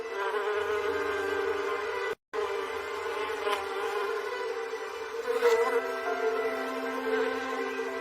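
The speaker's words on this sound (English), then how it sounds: "our flower beds and borders are abuzz with bees" Bees buzz steadily among late-spring garden flower beds and borders, a continuous close drone that swells and fades as insects pass, with one brief silent break partway through.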